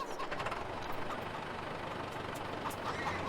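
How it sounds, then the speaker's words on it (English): Steady, fairly quiet diesel-like engine drone from a tractor in the Farming Simulator game, a continuous low rumble with a faint higher hiss and no speech. "Let's grab our newer tractor."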